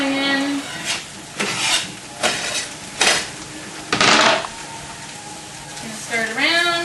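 Pasta being stirred around in a pan, with several scraping, clattering strokes of a utensil against the pan at a steady pace, close up, and someone talking briefly at the start and end.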